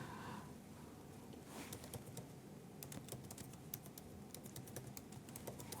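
Quiet, rapid clicking of a computer keyboard comes in irregular bursts while typing in the Vim text editor, close and soft over a low background hum.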